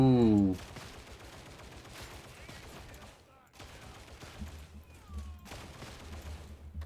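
Gunfire from a gun in the Warhammer 40k Darktide video game: a fusillade of rapid shots, moderately loud, in bursts separated by brief lulls amid game ambience.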